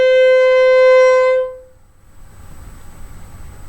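A single sustained violin note C, played by a beginner with the first and second fingers pressed close together, rings clear and steady for about a second and a half, then fades to quiet room noise.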